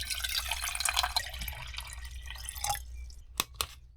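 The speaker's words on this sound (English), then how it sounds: "and let's fill it up with some water" Water pours and splashes into a small electric kettle inside an off-road electric camper, a continuous hissing stream that tapers off into a couple of distinct drips at the end, with no talk.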